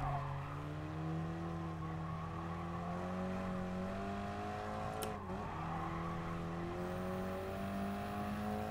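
A race car engine in GT Sport, a driving game, holds a steady, fairly loud whine through a corner. It dips briefly mid-way, then climbs back up in pitch.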